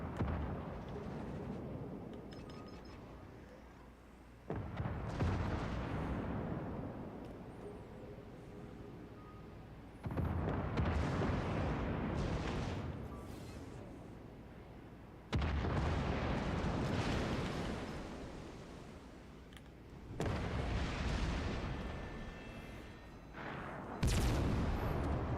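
Battleship main-gun salvos in World of Warships Legends, aboard the Schlieffen, boom out as five loud, heavy blasts spaced about five seconds apart. Each one rolls and decays before the next, with no talk.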